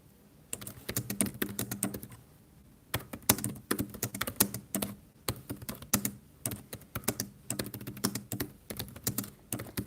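Rapid clattering keystrokes on a computer keyboard from a hunt-and-peck typist, coming in uneven bursts with short pauses, close and fairly quiet with no talking.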